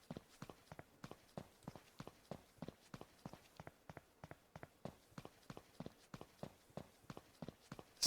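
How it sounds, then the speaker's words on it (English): Footsteps in a video game in development tap out a steady, brisk rhythm, each step a soft distinct thud, continuing evenly throughout at low volume with no other sounds. "Sounds of footsteps."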